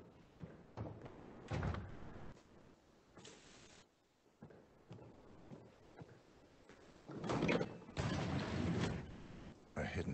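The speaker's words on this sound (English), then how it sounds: "A hidden door." A hidden door sliding open in Hitman 3 VR, a series of mechanical scrapes, knocks and rumbling thuds spread over several seconds, louder toward the end, with a voice speaking at points.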